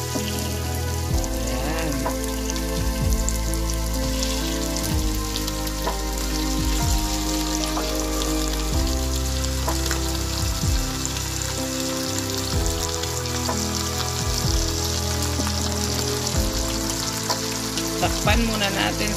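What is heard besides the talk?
chicken frying in a pan for Ilocano tinola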